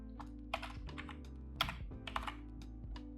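Keys clacking on a laptop keyboard while a word is typed: a quick burst of sharp, close taps in irregular rhythm, with a steady low hum underneath.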